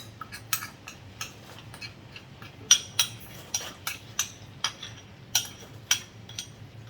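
Mutton being added to a pan of masala and stirred, with a dozen or so sharp metallic clinks from a spoon against the pan at an uneven pace over a faint low background hum.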